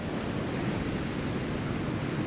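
Steady wash of surf on a deep-shelving French beach, shore waves rising high and breaking, a continuous broadband roar with no distinct individual crashes, fairly loud and unbroken throughout.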